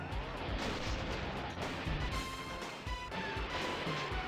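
Vehicle explosion in the Vigilante 8 car-combat video game, a dense, loud burst of booming crashes and rumbling blasts with overlapping impacts and tonal game effects running continuously throughout.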